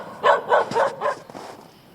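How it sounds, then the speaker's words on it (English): A neighbour's dog barks four or five times in quick succession at moderate distance, clear and sharp, then trails off to quiet. "there's my neighbor's lovely dog again"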